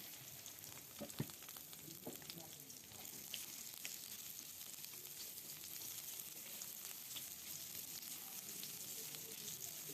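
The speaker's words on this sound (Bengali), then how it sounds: "এই যে প্রথম তেল দিলাম, তারপরে যে পেঁয়াজ দিয়ে দিলাম," Onions sizzle steadily in hot oil in a pan at the start of a Bangladeshi bata fish curry, a soft, constant frying crackle with occasional stirring clicks early on.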